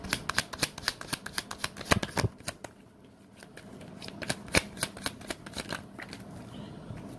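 Tarot cards shuffled for a reading, a rapid run of crisp papery riffles and snaps, close-up, that pauses briefly midway and then resumes in a looser, softer patter.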